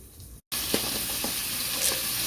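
Pork frying in a pan with allspice, a loud close steady sizzle with faint crackles and a short break near the start, no voices.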